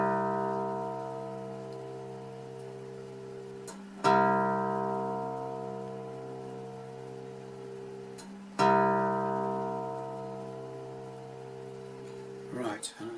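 A guitar's low E string, loosened and tuned down to C, is plucked twice and left to ring out with a low, harmonic-rich sustain that slowly decays. A brief scrape follows at the end.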